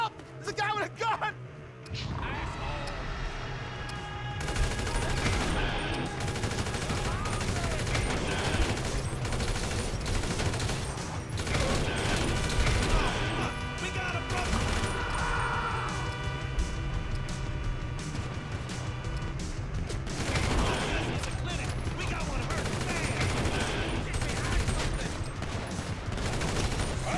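Gunfire in Grand Theft Auto around Los Santos: loud, sustained bursts of shots and rattling fire over a chaotic din, with shouting voices mixed throughout.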